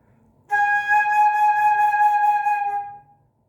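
Flute playing a high G sharp, same fingering as the low note but overblown: a single bright, sustained tone entering after a brief quiet start, held steadily about two and a half seconds, then fading, unaccompanied.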